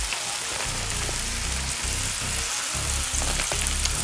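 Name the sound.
bacon wrapped hot dogs sizzling on the grill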